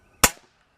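A single sharp crack from a break-barrel pellet gun fired as a baseline test, one close, loud snap with a brief trailing ring that fades quickly.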